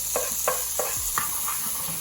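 Garlic cloves and a bit of jalapeno go into caramelized onions in a hot pan, stirred in a few scraping strokes over a steady, hissing sizzle; close and loud, with no talk.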